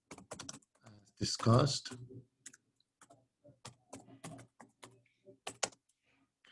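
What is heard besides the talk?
slow typing on a computer keyboard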